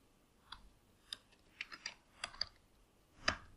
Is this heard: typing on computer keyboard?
yes